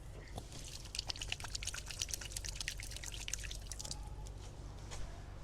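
Water poured and dripping as hands are washed, a soft, steady trickle and splash with scattered drips, faint and close in a quiet setting.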